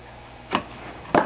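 A lawn mower battery charger plug goes into a socket, heard as two sharp close clicks or knocks about half a second apart, the second a little louder, against a quiet room with no talking.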